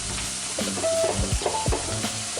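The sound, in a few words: shrimp and peppers sizzling in brown butter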